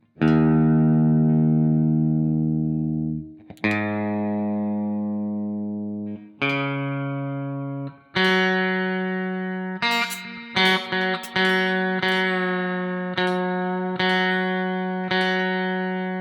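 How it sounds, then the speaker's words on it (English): An electric guitar with old strings is tuned down to E flat standard through an amp simulator, with sustained distorted single notes and harmonics plucked one after another, each ringing out and fading before the next. "Ah, the fun of listening to someone tune up."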